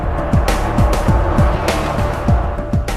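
NASCAR stock cars race at the 1992 Hooters 500, several cars roaring past close by one after another in a steady rhythm of loud engine sweeps over a constant crowd-and-track din.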